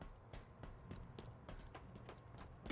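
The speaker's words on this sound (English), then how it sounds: "I hear footsteps behind me." Rapid footsteps in Halo Infinite sound from behind the player, a quick run of light, evenly spaced thuds at moderate distance under faint game ambience.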